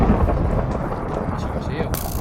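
Loud, continuous rumbling thunder from lightning in a video game, a deep roll filling the clip, with a bright crackle near the end.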